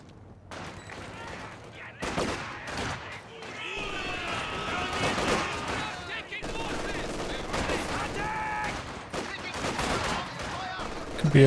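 Machine gun fire in Company of Heroes 2 lays down suppressing bursts amid a busy World War II battlefield, with rattling volleys and scattered shots recurring throughout, and a voice talks over the action.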